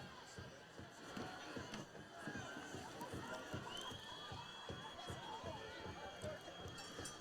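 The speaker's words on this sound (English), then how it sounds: "The parents trying to get things rolling down beneath us. You can hear them stomping the stands right now." Parents stomping on the bleachers at a high school football game, a dense run of thumps beneath crowd noise and chatter, fairly distant and continuous.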